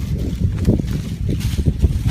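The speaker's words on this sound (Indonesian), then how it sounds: "Wah, gede angin oi" Strong wind blowing outdoors in a village, buffeting the microphone with heavy, low, gusting rumble that surges and fades, loud and close throughout, with no talking.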